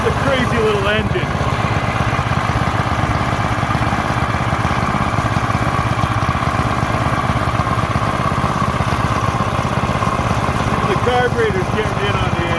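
A mini dirt track racer's small engine drones steadily up close with a rough, throbbing buzz, the carburetor loading up as the tone stays heavy and uneven, with brief pitch wobbles near the start and end and someone talking over it.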